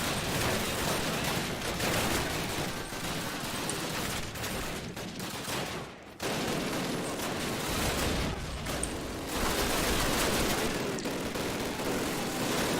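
Dense, sustained bursts of rapid gunfire from shooting enemies at a shooting range in the Call of Duty video game, layered automatic fire with a brief pause midway, filling the whole span.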